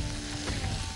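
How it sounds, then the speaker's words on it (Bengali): Chopped ginger and garlic frying in hot oil in a kitchen pan, a steady close sizzle running throughout at even loudness with no voices. "আদা কুচি নাও, রসুন কুচি। এবার এটাকে লাল লাল করে ভাজবো।"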